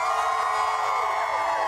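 A television studio audience cheers and whoops loudly and continuously, a dense crowd roar that holds steady throughout with a slight fade near the end.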